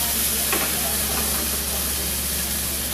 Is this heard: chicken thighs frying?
yes